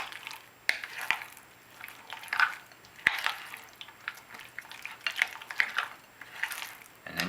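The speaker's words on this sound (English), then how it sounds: "I'm going to take this, give it a stir" A spoon stirs a bowl of tzatziki seasoned with black pepper, giving a series of soft scraping and clinking taps against the dish at an uneven pace, close and fairly quiet.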